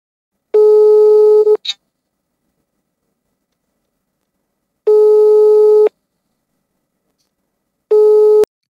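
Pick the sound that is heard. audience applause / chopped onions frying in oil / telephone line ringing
telephone line ringing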